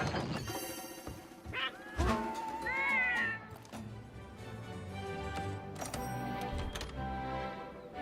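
A cat meows within the game Monster Hunter World Iceborne, a clear rising and falling cry amid busy in-game music and effects with no talk.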